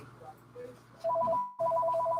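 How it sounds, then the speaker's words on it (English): A telephone rings with a rapid warbling electronic trill that starts after a second of quiet, pauses briefly, then trills again, loud and near. "And now our phone is ringing."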